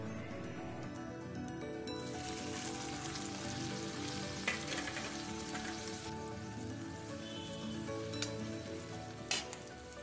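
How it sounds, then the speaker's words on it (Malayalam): Ginger and garlic sautéing in a pan, a steady broad sizzle and crackle that runs throughout with a few brief sharper clicks of stirring, close and fairly loud with no voices. "ഇനി നമുക്ക് ഇതിനേക്ക് വേണ്ടിയിട്ടുള്ള ഇഞ്ചിയും വെളുത്തുള്ളിയും എല്ലാം ഒന്ന് വഴറ്റിയെടുക്കാം."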